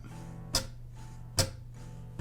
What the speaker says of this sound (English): what you're hearing is the metal strings of your guitar bouncing off the metal frets on your guitar for that